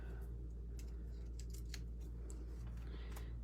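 Adhesive backing being peeled off small card pieces: quiet, brief crackling and rustling pulls, a few soft strokes, close and faint over a steady low hum.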